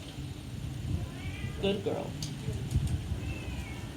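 A cat gives a short meow in the middle of the clip, under a person's voice and steady background noise.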